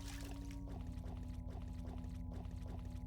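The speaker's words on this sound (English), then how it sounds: "I never noticed how adorably Fynn paddles in the water" Soft, steady splashing and lapping water as Fynn paddles along in the video game Cavern of Dreams, continuous and low, layered over a sustained game music tone with no talk.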